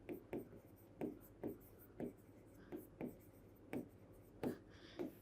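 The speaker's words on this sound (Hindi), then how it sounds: "यहां पे लिख देती हूं मैं" A teacher writing by hand during a lesson, a steady series of about a dozen short scratching strokes in an even rhythm, close and quiet, with no talking.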